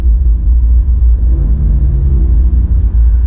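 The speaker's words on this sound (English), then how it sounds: "Downshifted, we'll do one more pull for you guys again, just to give you that soundtrack." A 2021 Maserati Levante engine after a downshift, a deep, loud rumbling drone heard from inside the car as it pulls at full throttle, without any voices.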